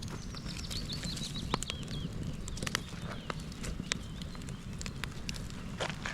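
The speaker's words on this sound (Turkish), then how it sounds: "Ateşi karıştıralım." A campfire by a lake in a Swedish forest is being stirred: close crackles, irregular pops and wooden knocks sound over a low rustling bed, with no one talking.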